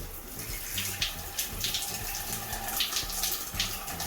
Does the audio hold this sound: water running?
yes